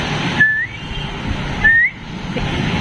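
A person whistles twice in imitation of a pet bird's call, each a short rising whistle about a second apart, clear and close over faint background hum.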